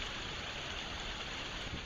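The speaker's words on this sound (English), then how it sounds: "I think it's picking up rain somewhere." Continuous rain with a dense, even hiss and no distinct drops or pauses, heard alone without any voices.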